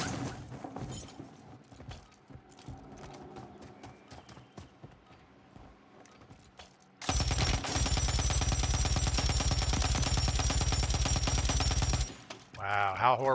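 Video game gunfire: scattered clicks and hoof-like footstep thuds give way to a loud, continuous machine-gun burst lasting about five seconds, followed by a few more shots.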